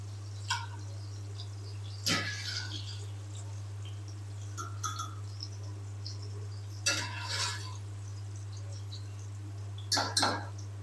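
Fried okra and onion are scooped out of a pan onto a plate, giving scattered metal spoon scrapes and clinks against cookware over a steady low hum, with faint sizzling in the background and no speech.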